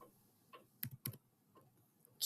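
Computer keyboard keys are tapped while filling in a spreadsheet task, a few sparse, close clicks in uneven rhythm, with sharper strikes in the middle and at the end, alone and fairly quiet.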